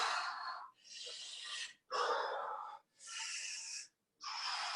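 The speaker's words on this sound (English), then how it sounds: "So really over-exaggerate your breathing when you do this." Heavy, exaggerated breaths during a no-equipment full-body exercise, five long forceful wheezing inhales and exhales in a steady rhythm, close and loud with brief silences between them.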